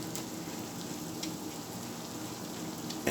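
Potato and onion omelet frying in a pan on high heat, a dense steady sizzle and crackle with a few small pops, close and continuous with no voices.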